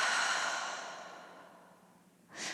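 A long, breathy yoga exhale through the mouth, steady and fairly close, gradually fading, followed by a short fresh breath at the end.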